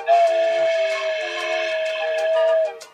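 An atenteben flute sounds the note C with leaking, poorly sealed finger holes, giving a slightly breathy, airy sustained tone held for about two and a half seconds before cutting off. No one speaks.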